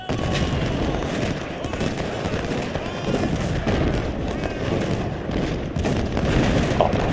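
Civil War cannon and musket fire in the Ultimate General strategy game, a continuous dense rumble of overlapping booms and crackling volleys at steady loudness throughout.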